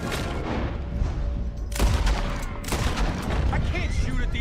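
Bursts of rifle and pistol gunfire in Red Dead Redemption 2, with loud, sharp cracks around the middle and scattered shots beneath shouting voices throughout.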